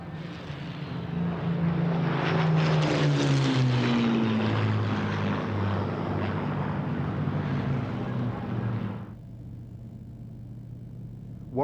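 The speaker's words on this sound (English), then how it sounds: "the Spitfires are close up behind the Heinkel bomber now" Propeller-driven Spitfire fighters trail a Heinkel bomber at the RIAT 2000 air show at RAF Cottesmore, a loud droning piston-engine roar that swells as they pass, shifts pitch, then abruptly drops to a quieter background hum.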